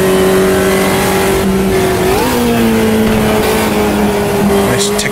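A Puma race car in Automobilista 2 drives in traffic, its engine droning loud and constant with a rising pitch sweep as it shifts up into fourth gear, and the tone then settles lower.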